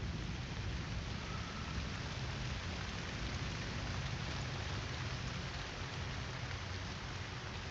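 Rain and thunderstorm weather in a video game, a dense, even wash of rainfall with a low rumbling undertone, steady and unbroken throughout with no voices.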